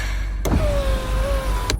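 An electric car window whirs down in one smooth motor run lasting about a second, framed by two sharp clicks at start and stop, heard close inside the car.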